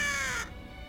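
A raven's harsh caw sounds as an effect in a radio reading of Poe's The Raven, one short rasping call that is loud at first and then breaks off into quiet, with no talking over it.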